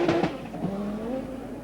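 Hannu Mikkola's Audi Sport Quattro S1 rally car drives a stage of the 1985 Lombard RAC Rally, its engine note rising and falling in steady, close drone with brief sharper bursts at the start, no talk.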